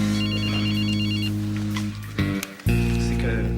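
Loud, close ringing of a personal telephone, a steady electronic trill that breaks off and resumes as the handset is handled, with a brief clatter in the middle.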